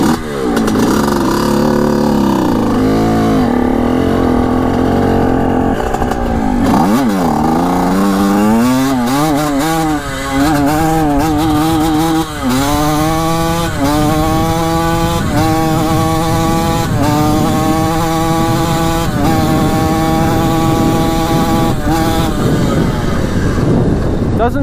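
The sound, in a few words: Suzuki RM 125 two-stroke dirt bike engine running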